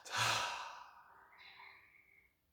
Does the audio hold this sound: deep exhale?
yes